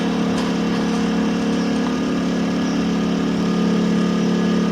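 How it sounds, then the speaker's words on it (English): A generator runs steadily beside a storm channel, powering two sump pumps, its engine drone loud and continuous with a low hum throughout. "There's the generator with the two sump pumps."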